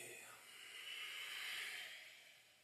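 A long, soft exhale during a yoga routine, a breathy hiss that swells gradually and fades again, close to the microphone and very quiet, with no speech.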